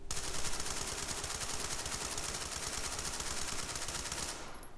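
A P90 submachine gun in a video game fires one long, unbroken automatic burst of rapid, dense shots that stops abruptly near the end.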